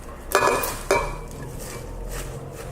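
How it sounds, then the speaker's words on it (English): Fresh spinach goes into a pan while making spinach pancakes: two quick bursts of crackling sizzle and clatter close by, then a faint steady frying hiss. "And now we're going to add the spinach. So just pop the spinach in like so."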